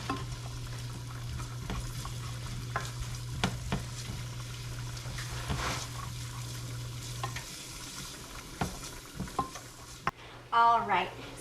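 Taco-seasoned ground meat simmers in a pan with a steady, low sizzling bubble, while a utensil scrapes and stirs in scattered strokes, ending in a few louder knocks.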